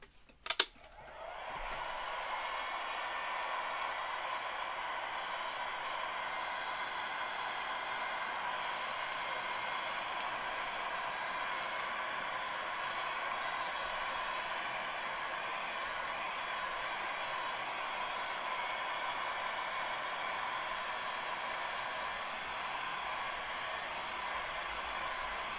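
A hair dryer blows on book pages to dry them, a steady, even whoosh that starts after a brief click and runs unbroken for about 25 seconds at moderate, close level without talk.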